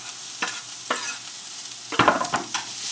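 Mushrooms frying with garlic in a pan, a close steady sizzle with scattered clacks and scrapes of stirring and tossing, no voices.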